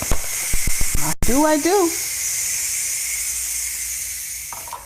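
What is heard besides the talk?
steam releasing from Ninja Foodi pressure cooker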